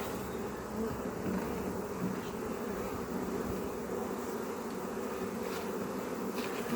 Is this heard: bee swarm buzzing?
yes